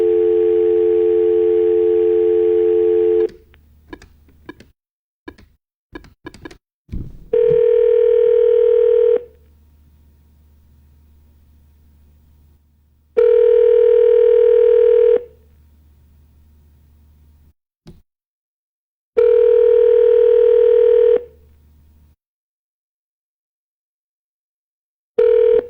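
Telephone handset dialing an unreachable number: a steady dial tone, then a quick burst of keypad beeps, followed by three repeated blocks of sustained tone separated by silent gaps.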